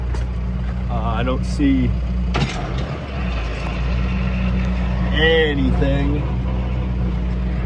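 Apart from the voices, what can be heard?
tractor engine running at idle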